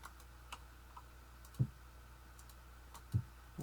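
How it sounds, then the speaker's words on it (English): Computer keys pressed in a few sparse, soft clicks during a Vintage Story game session, with two firmer taps standing out among faint ticks in a quiet room. "Stop hitting weird keys"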